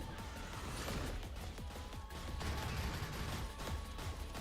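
Turret gunfire in the game Riftstorm: a dense, steady stream of rapid overlapping shots and crashing impacts, loud and continuous throughout.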